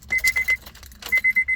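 Car keys jangle in an Acura RSX ignition while the key is turned, with two quick bursts of metallic rattling, each followed by a short row of four steady electronic chimes, close and clear.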